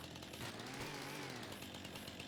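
A chainsaw in Farming Simulator 25 buzzes steadily while cutting through branches, a continuous loud whine with a rough engine drone underneath, running without pause.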